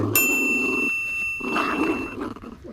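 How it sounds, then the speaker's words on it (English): A dog gives a brief, rough growl-like bark close by, mixed with ambient noise and a high ringing tone. "what's that dog?"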